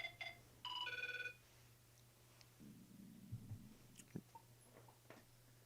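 A telephone gives a short electronic ring of two quick tones, faint against a low steady hum, followed by quiet clicks and rustles with no voices.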